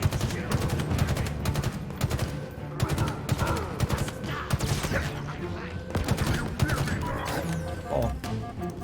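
Rapid gunfire from a weapon in the Halo Infinite single-player campaign, dense bursts of shots and impacts running nearly continuously over game music and effects.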